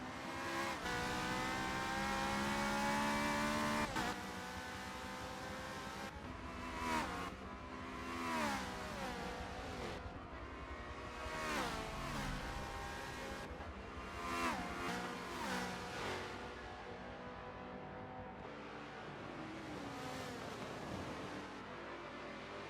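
Ferrari race cars battle for position during the 6 Hours of Road America, high-pitched engines revving and shifting through gears, rising and falling as the cars accelerate and brake, loud and close for over twenty seconds.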